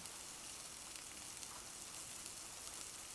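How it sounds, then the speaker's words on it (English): A burger cooking on a stove in the video game Kiosk, a steady faint hiss of sizzling that holds evenly throughout with no voices. "let's grab a burger and put it on the stove"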